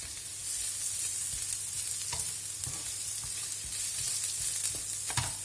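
Chorizo fries in a pan with a steady, bright sizzle throughout, broken by a few soft clicks and scrapes of stirring, with no voices.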